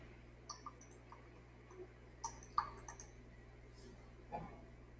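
Soft computer mouse clicks while drawing cloud markups in Bluebeam Revu, a handful of faint, scattered taps over quiet room tone, with no talk.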